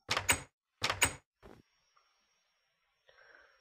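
Wooden doors in a survival video game, a few sharp, close clunks, two doubled knocks and then a softer third, followed by near silence and faint ambient game sound.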